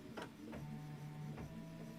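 An embroidery sewing machine stitches an outline line on fabric in a quiet room, producing a faint rhythmic mechanical whir with a few short bursts.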